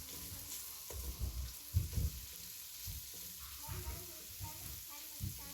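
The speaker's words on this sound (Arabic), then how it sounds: "بنحط طبعا شوية زيت عشان نقلب قطع الفروج" Chicken pieces sizzle and fry in a little oil in a pan, a steady crackle with soft thumps and scraping as they are turned, fairly close, with low voices in the background.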